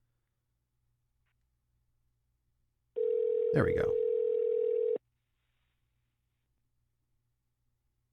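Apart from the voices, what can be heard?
phone call dial tone while calling someone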